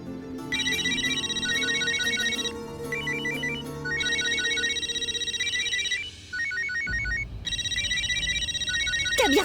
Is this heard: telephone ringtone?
yes